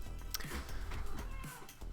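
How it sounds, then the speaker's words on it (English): A house cat meows several times in quick succession, close and fairly clear, with brief pauses between calls. "I ran into my cat."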